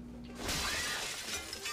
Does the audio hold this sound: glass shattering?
yes